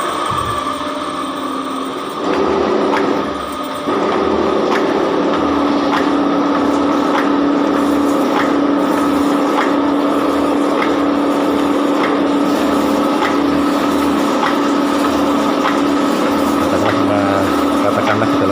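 A metal shaping machine drives its chisel through a workpiece, giving a steady mechanical drone with faint repeating strokes roughly every second, continuous and fairly loud throughout.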